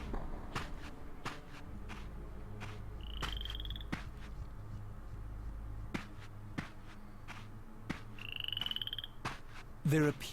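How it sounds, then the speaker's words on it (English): Frog croaks come in a low, steady, repeating pattern through a Soul Reaver 2 game cutscene, with soft shuffling footsteps, a couple of brief chirps and a short louder burst near the end. "Frog in the cutscene."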